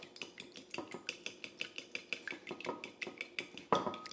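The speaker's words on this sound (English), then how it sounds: "Then all we're gonna do is scramble up these eggs." Eggs for a bacon, egg and cheese omelet scrambled in a bowl, a utensil clinking against the sides in a fast, steady rhythm, with one louder knock near the end.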